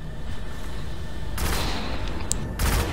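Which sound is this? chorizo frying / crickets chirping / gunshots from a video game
gunshots from a video game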